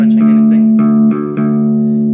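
The open D string, the third string of a bass guitar, is plucked several times in a row. Each pluck rings out as a loud, steady low note that keeps sustaining between strikes, with no talking over it.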